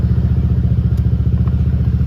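A motorcycle engine running at a steady idle, close and loud, with an even rhythmic putter and no voices.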